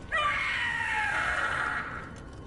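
The Gloomhowler, a monster in the game Dragon Age: The Veilguard, lets out a single long, loud, wavering shriek lasting about two seconds before it trails off.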